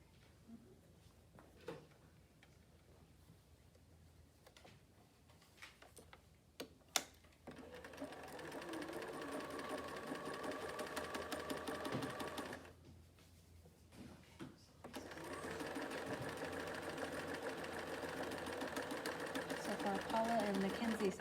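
A sewing machine stitches a quilt block in two sustained runs separated by a short pause, fairly quiet and steady. Soft handling sounds come before the runs, and someone speaks quietly nearby.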